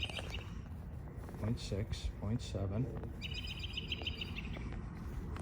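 Small birds chirp in quick high bursts within a prison museum in Burlington County, New Jersey, the calls clear and fairly close while someone talks over them.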